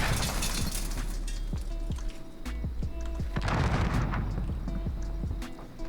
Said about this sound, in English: They just threw a Semtex.